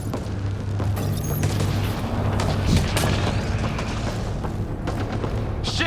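Gunfire in a video game firefight: dense bursts of booming shots crackle continuously over a steady low rumble, loud and unbroken throughout.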